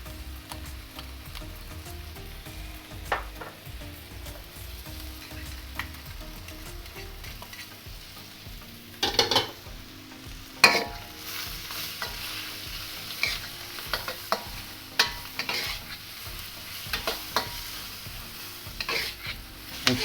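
Curry paste and shrimp stir-fry in a pan for a Thai curry, a continuous close sizzle with scraping and knocking as the ingredients are kept moving, the stirring growing busier and louder partway through.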